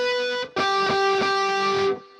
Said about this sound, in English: we can play the harmonics we just played with our left hand on the 12th fret with our right thumb